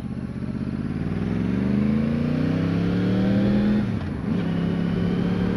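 A motorcycle engine drones steadily while riding, its pitch climbing as it revs up, then dropping sharply after a shift before settling into a steady hum again.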